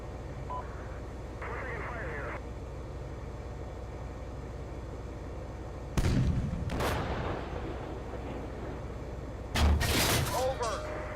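Tank main guns firing in Steel Beasts Pro, a 1978 German task force scenario: two heavy, booming blasts several seconds apart with rumbling decay, over a steady engine drone and crew radio chatter.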